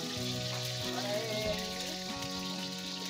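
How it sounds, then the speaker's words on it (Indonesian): Tofu sizzles steadily in hot oil in a communal village kitchen, a dense crackling hiss running throughout, with clattering and faint background music or voices. "Oh, goreng tahu"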